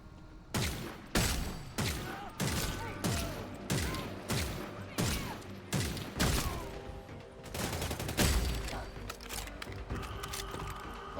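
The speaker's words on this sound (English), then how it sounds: "that was some rotten shooting on my part" Gunfire while shooting vampires in the video game Redfall: a rapid, loud, continuous run of shots in a steady rhythm lasting throughout.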